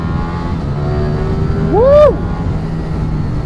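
A 2023 Ducati Streetfighter V4S, an unfaired 208-horsepower motorcycle, revs hard to high rpm in one sharp rising and falling sweep, loud and close over a steady engine drone, with a short exclaimed voice.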